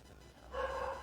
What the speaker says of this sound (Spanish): por ahí está ladrando Diógenes